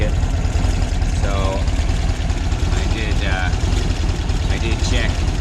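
An engine idles roughly, missing on the idle circuit, with a steady low rumble running throughout while a person talks over it.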